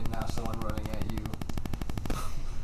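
Rapid automatic fire from an AK-47 rifle in a closed basement, a fast steady burst of loud cracking shots lasting about two seconds with a reverberant tail, a voice faintly mixed in.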